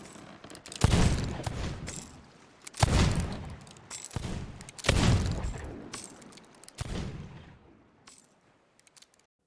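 Sea of Thieves gunfire, several heavy booming shots spaced about two seconds apart, each with a long rumbling tail, loud and close with no talk.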